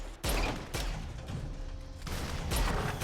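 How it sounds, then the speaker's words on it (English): A pistol in the video game Deep Black fires slowly, four heavy booming shots spaced about half a second to over a second apart, each trailing into low rumble. "It fires very slowly, and it takes 15 shots from our pistol to kill one of these walkers"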